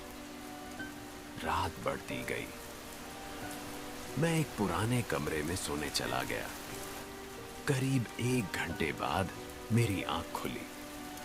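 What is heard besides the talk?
heavy rain falling outside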